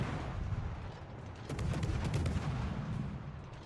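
Video game gunfire as a player opens fire on an opponent, sounding as a rapid cluster of sharp shots over a steady low rumble of game noise, with the bursts starting about midway and continuing to the end.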